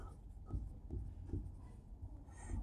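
Pen or pencil scratching on paper as a math word problem is written out by hand, a soft steady rubbing with short strokes at a low, faint level and no voices.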